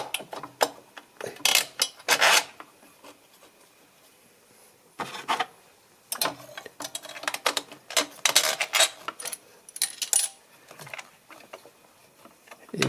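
Ratchet wrench clicking in quick rapid bursts while tightening an injection rail screw on a 2006 Mercedes C200 CDI, close and crisp, with brief pauses between strokes and no voices.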